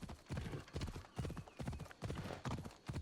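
The horse Phobos gallops at full speed in the video game Assassin's Creed Odyssey, its hooves drumming in a quick, steady beat of heavy thuds close by, with faint talk mixed underneath.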